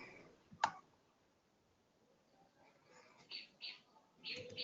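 A computer mouse right-click during browser work, one crisp close click early on followed by soft whispery breaths and faint movement noises.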